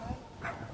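A dog gives a short, quiet bark or yip, brief and slightly distant, with a voice nearby.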